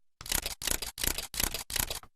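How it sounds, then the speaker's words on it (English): A Canon Rebel T6i (750D) DSLR shutter fires in silent continuous shooting mode, giving five evenly spaced, muffled mechanical clacks in a steady rhythm, close and clear with no talking. "you also have silent continuous shooting, and it's not at all silent, but it is quieter"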